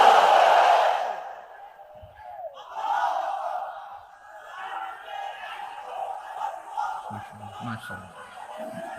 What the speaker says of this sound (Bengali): তাকবীর পড়ুন, লিল্লাহি তাকবীর